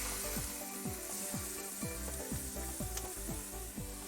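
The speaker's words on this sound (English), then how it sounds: "So I'm going to start out browning the stew meat. I have about 2 tablespoons of hot oil here." Stew meat browning in about two tablespoons of hot oil for green chile stew, a steady close sizzle and crackle with a repeating clack of a utensil stirring the pan, no talking.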